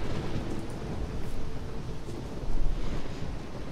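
Heavy rain and wind in a thunderstorm in the game Risen form a dense, steady roar, with low rumbling swells and one stronger surge partway through.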